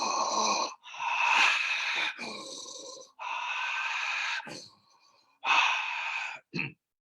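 Long, loud breaths drawn in and pushed out through the mouth during a somato respiratory breathing exercise, a series of airy wheezing rushes separated by short pauses, with no talking.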